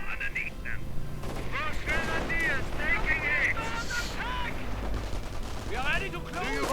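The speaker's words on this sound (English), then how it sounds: "And the first Sherman rolls out. Already equipped with the 50 caliber machine gun on top." Machine gun fire around a Sherman tank in a World War II strategy game crackles as dense, continuous battle noise, with a commentator talking throughout over the shooting.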